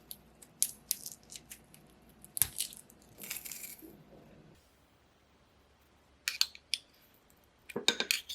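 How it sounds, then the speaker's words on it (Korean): Peeled garlic is minced with a knife on a board, giving sharp, close chopping clicks in short bursts, with a quiet pause in the middle and a rapid flurry of cuts at the end. "마늘은 껍질을 벗겨주고 다져서 넣으세요."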